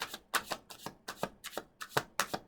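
Tarot cards are shuffled and drawn in a quick run of about a dozen crisp, papery riffling snaps at an even rhythm, close and clear.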